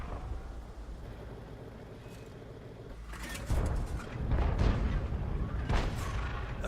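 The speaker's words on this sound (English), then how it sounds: "That was an Arty round went in." An artillery shell from a tank game lands with a heavy, rumbling boom, followed by further crashing blasts and debris over a background engine drone, fairly loud and without talking.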